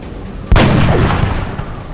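A single loud gunshot in the XCOM: Enemy Unknown video game, a sharp crack followed by a booming, reverberant tail that fades over about a second and a half.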